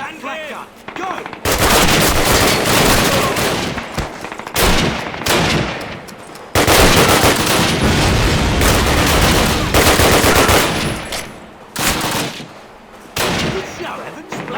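Flak gun firing in a World War II battle scene in the 2003 game Call of Duty, loud repeated bursts of heavy automatic fire separated by short gaps, close and dominant.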